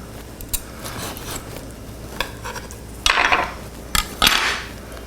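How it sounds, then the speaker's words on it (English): A knife slices through a grilled tomahawk ribeye steak on a cutting board, giving a few sharp scraping strokes and knocks up close, with quiet gaps between them. "Let's go ahead and just slice off a thin little slice here"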